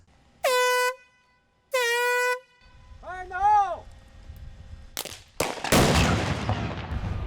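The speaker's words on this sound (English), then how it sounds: "These three we're going to shoot at the same time, but we also are working with explosives" A substation upgrade crew fires three explosive connectors at once: two long air-horn warning blasts and a wavering siren tone precede a sharp burst of loud cracking detonations and rumbling debris.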